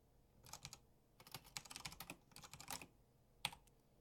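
Fast typing on a computer keyboard, bursts of crisp key clicks with short pauses between, close and clear with no talking.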